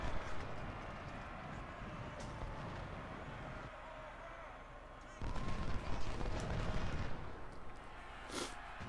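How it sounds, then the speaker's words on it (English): Artillery fire in the Civil War strategy game Ultimate General: Civil War, a faint, muffled rumble of distant booms and rattling volleys running throughout, with a heavier burst past the midpoint and a sharp crack near the end. "our guys are just taking point blank artillery fire at the minute"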